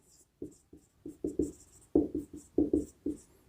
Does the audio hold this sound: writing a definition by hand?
yes